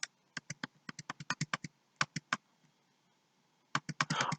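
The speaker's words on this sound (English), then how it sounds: "I'll just type the exclamation mark and press tab" Close, crisp computer keyboard typing while coding HTML: a run of rapid keystrokes, a brief gap, three more presses, a quiet stretch, then a closing flurry of taps.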